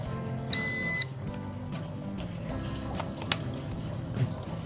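A Taff Omicron infrared thermometer gun beeps once as it switches on, a single clear high tone lasting about half a second, followed by quiet handling noise.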